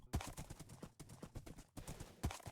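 A horse walks in Minecraft, a series of hollow, even clip-clop hoofbeats in a steady walking rhythm, close and alone.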